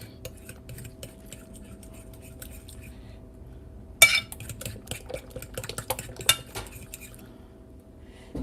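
A spoon stirs protein banana loaf batter in a bowl: quiet at first, then a burst of clinks and scrapes against the bowl, with irregular taps continuing close by.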